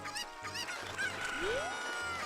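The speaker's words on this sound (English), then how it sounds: "Oh wow, the chicken ran away." Cucco chicken in Zelda: Ocarina of Time squawking and clucking in repeated bursts, mixed with game music and a rising synthetic sweep.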